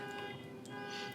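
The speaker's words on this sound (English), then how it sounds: "Yeah, the alarm's going off." An electronic alarm goes off as a tabletop game sound effect, a steady droning tonal wail held throughout at low level.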